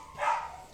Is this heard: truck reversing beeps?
no